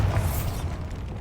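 The Bombarda blast spell from Hogwarts Legacy hits as a loud, dense burst with a crackling, rumbling boom that rolls on and tails off over about a second, with no talking.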